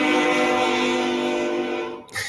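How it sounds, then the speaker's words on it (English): A passing train blasts a long, steady horn that sits loud and close, then cuts off abruptly near the end, leaving the rumble of rail cars. "I've got a train going by because I live in the poor side of town."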